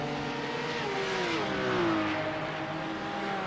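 TCR touring race cars in the iRacing sim at Monza, a pack of engines droning and revving steadily together, pitch sweeping as cars pass, loud and continuous with no talk.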